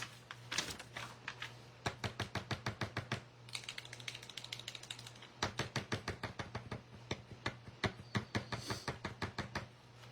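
A paint pen or paint bottle is shaken hard, its mixing ball rattling in quick, evenly spaced clicks that come in several bursts with short pauses. A low steady hum runs underneath and no one speaks.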